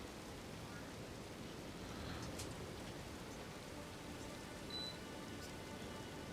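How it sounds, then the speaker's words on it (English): Steady rain falls outdoors as a dense, even wash of patter, moderately loud and continuous throughout, with no other sounds standing out. "We didn't have a lot of rain here for a minute, but it started again."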